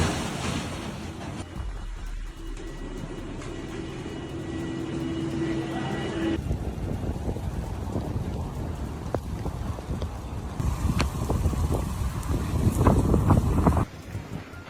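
Strong wind roars around a house as its roof is torn away, a loud continuous rushing blast with rumbling gusts that swell and build toward the end before cutting off.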